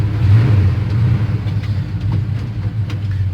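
A 1975 Chevy Silverado C10 pickup truck engine warming up after a cold start, a steady low rumbling idle that holds close and loud throughout with no talk.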